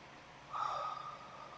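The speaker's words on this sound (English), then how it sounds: "deep breath in" A deep, slow inhalation during yoga breathing practice, a soft airy breath in close to the microphone lasting about a second, alone without talk.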